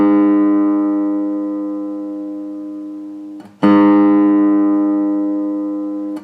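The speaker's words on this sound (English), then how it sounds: "There's an E." A single sustained electric-guitar note, the E string tuned slightly flat, rings and slowly decays, then is struck again and rings out once more, clear and alone.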